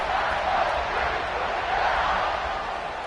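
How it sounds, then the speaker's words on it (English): Stadium crowd at a college football game between Rutgers and Ohio State, heard as a broad, continuous roar of cheering that holds steady for the whole stretch. "this crowd is feeling themselves after that last drive"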